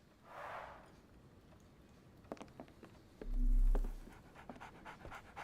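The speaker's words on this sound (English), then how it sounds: "So, Barnes has a dog now." A dog pants in a quiet scene from the video game Sherlock Holmes: The Awakened, a soft breathy burst early on, then light pattering steps and a louder, low huffing pant near the end.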